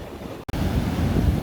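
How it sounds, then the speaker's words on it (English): Ocean waves break at the water line on the Oregon coast, a loud close roar of surf with wind buffeting the microphone and a brief dropout near the start, no speech. "Gotta be careful with the waves."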